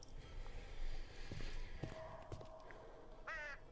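A bird caws near the end of a scene in the dark fantasy game Vambrace: Cold Soul, one short raspy call over faint game ambience and scattered soft thuds.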